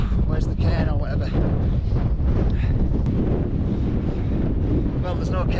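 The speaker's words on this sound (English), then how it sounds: "Oh, the wind's picking up." Strong wind gusting across the open summit of Place Fell, buffeting the microphone with a continuous loud, rough roar.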